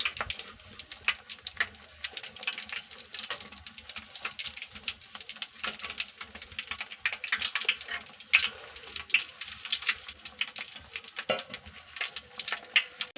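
Brinjal (eggplant) bajji fritters deep-frying in hot oil, roadside style; a continuous crackling, bubbling fry with dense small pops and spits, moderately close and steady, with no voices.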